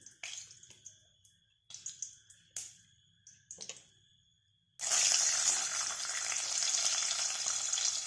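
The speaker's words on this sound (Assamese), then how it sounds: "লৈ পেলাই কণীকেইটা অকণমান ফ্ৰাই কৰি ল'ম।" Eggs dropped into hot oil in a pan, scattered clinks and scrapes first, then an abrupt loud, sustained hissing sizzle that carries on to the end, with no voices.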